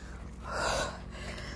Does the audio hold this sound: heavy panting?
yes